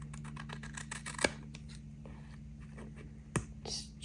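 Scissors trim the white edge off a layer of a handmade candy cane Christmas card, making faint, quick snips and a couple of sharper clicks up close.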